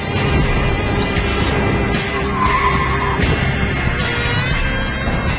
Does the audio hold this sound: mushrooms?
no